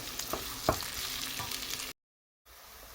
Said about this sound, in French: Je vais faire sauter le tout entre 3 et 5 minutes.